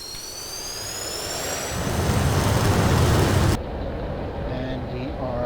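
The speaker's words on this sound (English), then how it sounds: "let's give this aircraft a thrust" A JF-17 Thunder Block II jet engine in a flight simulator throttles up for takeoff, a loud, close roar building in intensity before dropping abruptly to a lower, steadier whine.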